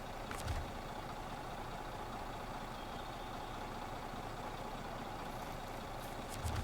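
Truck engine in a snowy driving video game, a steady low idling rumble held throughout, with a couple of brief sharp hissing bursts near the start and end and no talking.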